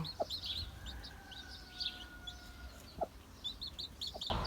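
Young chicks in a cardboard box give high, short peeps in scattered bursts, with a few sharper clucks and knocks mixed in, fairly faint and close with no talk.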